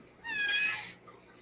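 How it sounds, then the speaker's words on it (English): A small kitten gives a single soft, high meow lasting under a second, close by and quiet in a still room. "Aw, the baby cat."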